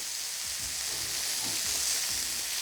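A steak sears in a hot pan just after being flipped, with a constant crackling sizzle and faint low scrapes from pressing the meat down, heard close with no talking.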